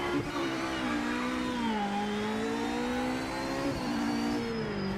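Porsche race car engine in Project Motor Racing, a steady mid-pitched drone with revs rising, dipping and climbing again, fairly quiet and continuous, with no voices.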